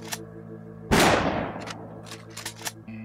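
A single gunshot fired in the video game Afterfall Reconquest, a sharp loud blast that decays over about half a second, followed by a few faint clicks of game sound.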